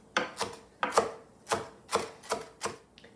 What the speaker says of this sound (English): And just give it a chop. And I'll just run the knife through it a little bit.